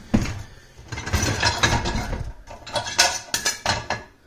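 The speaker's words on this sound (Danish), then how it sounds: "Men når du tømmer din opvaskemaskine for eksempel" Dishes and cutlery clatter and clink as a dishwasher is emptied, a run of close, sharp knocks and jangles in quick uneven bursts with brief pauses between handfuls.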